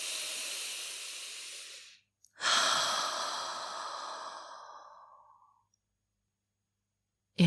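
Deep breathing during a guided breathing exercise: a long, airy exhale lasting about two seconds, a brief pause, then a longer breath that slowly fades out, heard close and alone.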